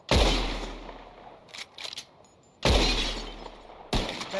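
Gunshots shatter bottles in a Red Dead Redemption 2 shooting contest: a few loud, sharp cracks, each followed by a bright glassy break, spaced apart with quieter gaps between them.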